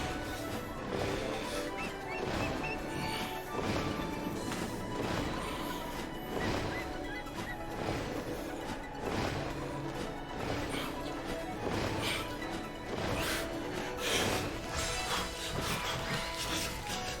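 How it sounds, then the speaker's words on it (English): Repeated crashing thuds of smashing into rocks in the Ring Fit Adventure video game, a steady run of loud impacts over dense game sound, no talking. "I know that like smashing into the rocks isn't fast."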